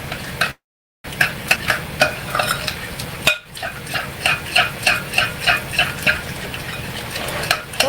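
A spoon stirs a mixture in a bowl in place of a whisk, making a steady run of rhythmic scraping strokes, close and fairly loud, with a short dropout near the start and a brief pause midway.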